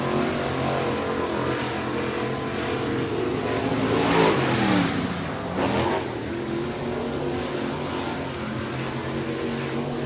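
Crate race cars lap a dirt track at Swainsboro Raceway in Georgia, a steady loud engine roar that swells as a car passes near and then eases off, with no voices.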